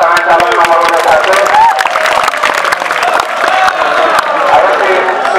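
An audience claps and cheers for the first candidate pair at a school student-council (OSIM) election debate held at a madrasa. The dense, sustained applause fills the room for the whole stretch, with voices mixed into the crowd noise.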